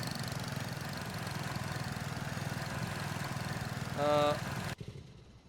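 A tractor engine in Farming Simulator 25 idles with a steady, pulsing mid-pitched drone, briefly joined by a tonal horn-like note before the sound abruptly cuts off near the end.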